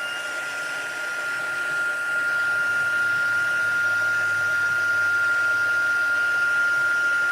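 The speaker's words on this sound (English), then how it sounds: "Using this heat tool really does make it much easier." A heat tool blows hot air steadily to dry a stamped card during a live card-making class, a constant close whooshing hum with a thin high whine that holds unbroken for the whole stretch.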